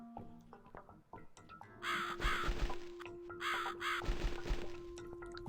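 In the horror adventure game The Cat Lady, a crow gives two harsh, raspy caws in succession. The calls are fairly loud against a quiet, eerie background.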